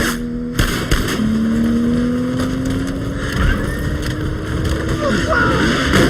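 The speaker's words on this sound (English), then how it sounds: "There's a car chase with Jane behind the wheel and John riding shotgun." A car chase from the film Mr. & Mrs. Smith: a loud, close engine drone climbs steadily in pitch as the car accelerates, set against dense, rushing road noise and a sharp burst near the start, with indistinct voices mixed in.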